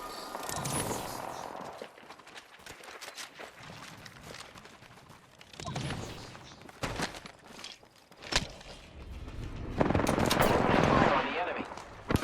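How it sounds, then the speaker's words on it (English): Video game gunfire rattles in repeated bursts of automatic fire, with sharp single shots in between and a heavy, sustained barrage near the end, loud and close. "I'm taking fire, friends"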